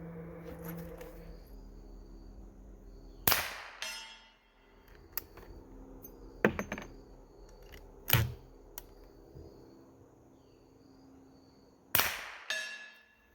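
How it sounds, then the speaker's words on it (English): Suppressed shots from a Henry .357 single-shot rifle fired at a range, one round at a time: four sharp, fairly loud cracks spaced several seconds apart, each trailing off quickly, with quiet outdoor ambience between. "I'm going to roll in a whole lot of shooting footage"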